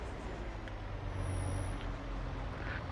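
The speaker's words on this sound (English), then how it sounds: "Even the dump valve sounds disappointed" A truck's dump valve releases air in the video game Farming Simulator 22, a steady broadband hiss under low engine rumble that swells briefly mid-clip, with no talking.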